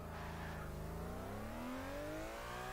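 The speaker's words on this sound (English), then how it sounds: "Great sounding engine, that V12, the 6-liter V12" A LaFerrari with a 6-liter V12 revs in Gmod, its pitch climbing steadily in a smooth, rising whine that sits close and alone, with no talk over it.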